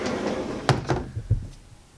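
A door inside a 2020 Tiffin Allegro 34PA motorhome is pushed down to open or latch, producing two close clicks and a couple of soft knocks in quick succession, then quiet.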